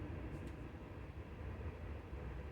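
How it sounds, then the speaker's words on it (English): A train passing in the distance, a continuous low rumble with no clear beginning or end, heard faintly as a steady background drone. "oh, train, another train"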